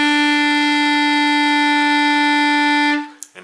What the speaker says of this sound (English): Let's play the note E.